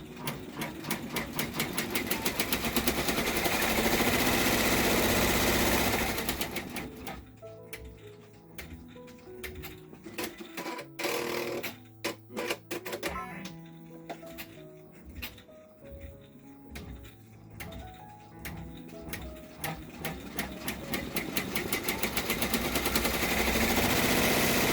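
An embroidery machine stitches zipper bag fabric in the hoop, its needle hammering in a rapid, even rhythm that pauses midway into slower, uneven stitching, then speeds back up to a loud, continuous run.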